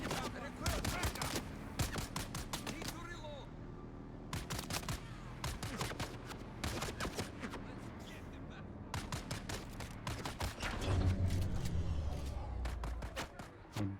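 Rapid gunfire in a video game, with bursts of shots rattling almost nonstop, pausing briefly and then resuming louder toward the end.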